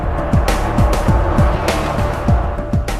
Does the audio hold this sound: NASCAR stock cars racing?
yes